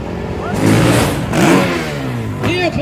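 At a freestyle motocross show, motocross bikes rev their engines to warm up, in loud rising and falling blasts with rough idling between them. A voice talks over the engines at times.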